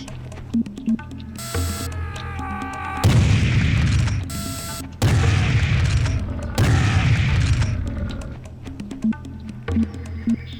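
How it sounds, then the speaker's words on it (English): Repeated heavy cannon booms in a video game, several loud blasts in clusters with rumbling tails, separated by quieter stretches of game sounds and tones. "The cannon is fun, but the cannon you murder yourself a little bit too often with"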